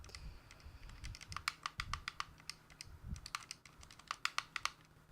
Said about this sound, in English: the key clicking of the controller though